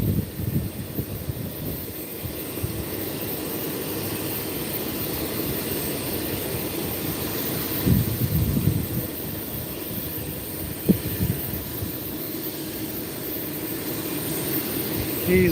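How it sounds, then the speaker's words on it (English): A jet aircraft taxiing far off at Lakefront Airport in New Orleans, a faint steady engine whine and rumble heard from a distance under constant background noise, with a couple of brief louder bumps. "There's a jet taxiing down there."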